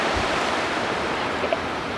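Indian Ocean surf washes onto the shore at Kalpitiya, Sri Lanka, as a steady broadband roar that holds constant without pauses or voices.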